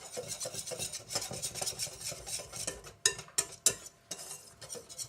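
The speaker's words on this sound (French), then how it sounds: "Je mélange bien les deux." A wire whisk stirs a fine cornmeal and flour mixture in a bowl with steady rasping, scraping strokes, close and moderately loud, with a few sharper clinks of metal against the bowl near the end.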